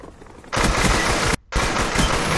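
An M14 rifle fitted with an ACOG sight fires in a video game, loud sustained bursts of rapid shots with a brief gap before the shooting resumes.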